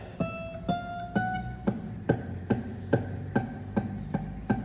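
An acoustic guitar string plucked repeatedly in an even rhythm at the 15th fret, each note carrying a rattling fret-buzz edge as it rings, close and alone.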